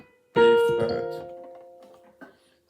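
Violin sounding a single B flat, one loud bowed note that rings out and slowly fades over about two seconds, followed by a faint short touch of the strings.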